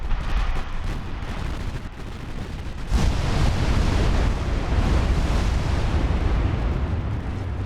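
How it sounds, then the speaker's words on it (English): A battleship's main guns fire a volley in the Ultimate Admiral Dreadnoughts naval game: a heavy, booming blast bursts in partway through and rolls into a sustained rumbling roar, with dense explosive noise before it. "I think that volley ought to sink the battleship."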